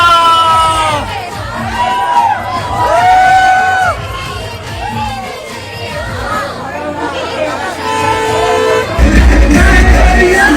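Dense crowd noise at a cinema hall screening of the film Handa, with loud chatter, shouting and cheering voices overlapping throughout, swelling into a heavier roar near the end.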